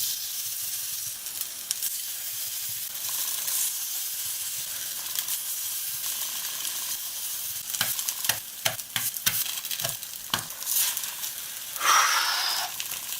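Butternut squash galettes frying in a hot oiled pan, a steady close sizzle and hiss throughout, with a burst of sharper crackles and spatters near the end as the batter hits the pan.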